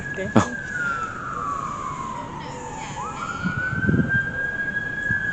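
An ambulance siren wails past, its long sweeping tone falling and then rising again at moderate distance over steady outdoor traffic rumble, with a brief sharp knock near the start and a few voices murmuring faintly underneath.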